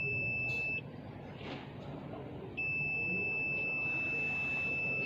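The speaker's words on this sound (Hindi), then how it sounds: "इसका बीप बंद कर देते हैं ताकि कोई दिक्कत महसूस ना हो" A satellite dish signal meter gives a steady, piercing electronic tone up close, holding for nearly a second, dropping out, then sounding again continuously over low background noise.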